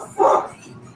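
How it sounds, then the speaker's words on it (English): A dog gives one short, close bark, clear and fairly loud, fading quickly into faint background noise. "Who has a dog barking?"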